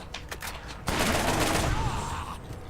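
Sustained rifle fire in the video game Borderlands: a dense, continuous burst of rapid shots after a short lead-in of a few separate cracks, loud and close, with no talk over it.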